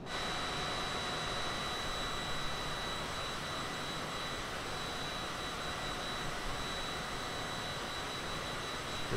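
Cessna Citation CJ4 twin jet engines in Microsoft Flight Simulator 2020 are throttled back at low altitude, giving off a steady, loud, broadband whine and rush with a thin high tone, unbroken and with no voices.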